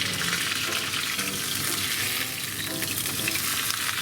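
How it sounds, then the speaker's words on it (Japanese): A leek, potato and cheese pancake crisping in a frying pan gives a loud, dense, steady sizzle that fills the space, close by with no voices, over a faint musical backing. "はい、じゃあひっくり返していきたいと思います。"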